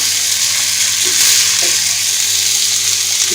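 Boiled rice frying in a pan with chicken and vegetables for restaurant-style fried rice, a loud continuous sizzle close up with faint stirring scrapes underneath.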